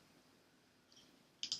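A computer mouse gives a soft click followed by a sharper double click, close and faint in an otherwise quiet room with no talking.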